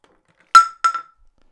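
A Galaxy S24 Ultra fitted with an AmFilm glass screen protector dropped from four feet lands with a sharp glassy clack, then a smaller bounce clink, loud and close in otherwise silence.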